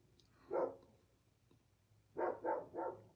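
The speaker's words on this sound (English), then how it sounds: "my dog" A dog barks indoors, one bark, then after a pause a quick run of three barks, moderately close and alone without talk.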